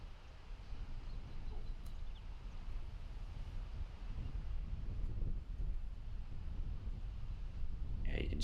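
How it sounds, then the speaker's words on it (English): Wind gusts sweep across an outdoor disc golf course as a soft, continuous broadband rush with buffeting on the microphone, faint and low, while a commentator talks over it. "you can see that wind starting to pick up"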